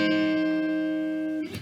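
A guitar chord barred on the 8th fret rings out once and sustains evenly, then fades with a slight scrape at the end. Close and alone.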